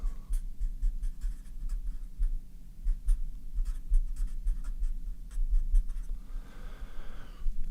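Chalk or marker scratches across a lecture board in quick repeated strokes for several seconds, fairly close and clear over a low room hum, without any talking.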